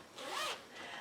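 Zipper on a planner's zipper pocket pulled open in one smooth, close zip lasting about a second.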